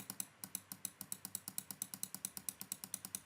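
Rapid, steady mouse clicks during digital sculpting in Carveco Maker Plus software, about twenty crisp, close clicks in a quick even rhythm with no movement noise, alone and fairly quiet.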